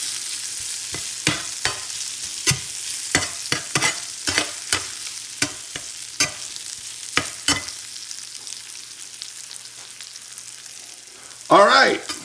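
Peppers and steak are stirred in a seasoned steel skillet, with sharp spatula scrapes and taps spaced over a low sizzle, followed by a brief louder clatter near the end.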